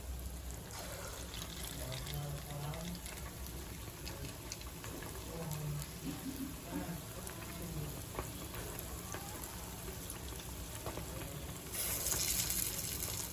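Dahi vada batter sizzles in hot oil on a high flame, a steady dense crackling hiss like heavy rain that continues throughout and grows slightly louder near the end.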